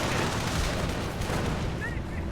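Sustained booming fire from a Bofors anti-air gun in the Company of Heroes strategy game, a loud, dense rumble of shots and blasts with no break, plus a brief whistling tone near the end.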